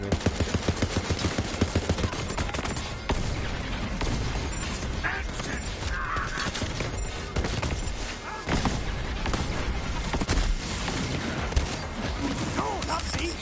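Gunfire in the video game Borderlands 3, rapid automatic bursts and mechanical clatter layered with game music and effects, dense and loud throughout, with voices talking over it.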